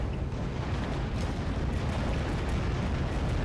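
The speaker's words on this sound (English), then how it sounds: "That long-range artillery's firing." Long-range artillery fires in the real-time strategy game Act of Aggression, a dense, continuous rumble of booms and blasts rolling together without pause and with no voices over it.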